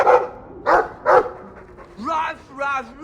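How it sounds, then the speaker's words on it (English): A dog barks in the video game Dragon Age II, three sharp close barks followed by two whimpering, yelping calls, with a voice speaking around them. "I like the doggy."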